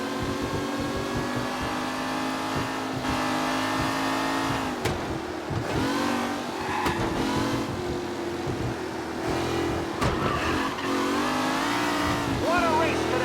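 Race car engines in the Mafia video game rev and accelerate continuously at close range, with steady harmonic engine drone rising and falling through sharp gear-change transients, while race commentary talks over the engine noise.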